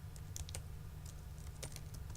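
Keys on a computer keyboard clatter in short irregular bursts while a cost center name is entered in Tally ERP 9 accounting software, faint and close over a steady low hum.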